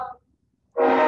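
A train horn sounding in northern Colorado, a loud sustained blast starting abruptly after a short silence, preceded by the tail end of another blast.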